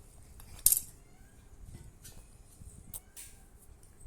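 A PVC wiring pipe is cut through with a pipe cutter: one sharp, close snap early on, followed by faint clicks and handling noises against a quiet background, with no talking.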